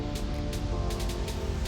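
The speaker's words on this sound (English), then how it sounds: "it's starting to rain on us, so we are getting inside" Rain starting to fall outdoors over a garden, a steady close patter of drops with soft hissing wash throughout, no voices.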